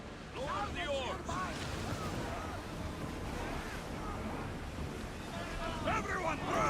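Open sea sounds from a rowed ship in Assassin's Creed Odyssey: steady surf and wind wash fill the whole stretch, with faint voices and creaks layered into the constant roar.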